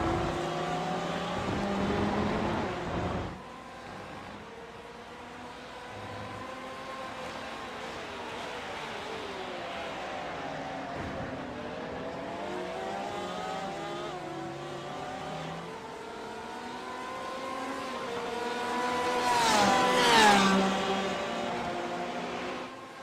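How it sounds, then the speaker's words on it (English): Porsche race cars in a racing video game lapping the Spa circuit in an endurance event, engines rising and falling in pitch as several cars rip past, loudest burst near the end. "you gotta love the sound of those Porsches ripping"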